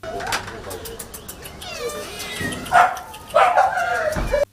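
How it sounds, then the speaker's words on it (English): Several cats in a cattery housing about fifty kinds of cats, giving meows and cries of varying pitch, some close and loud, over a busy background with other animal calls mixed in. "This is a cattery that houses about 50 different species of cats"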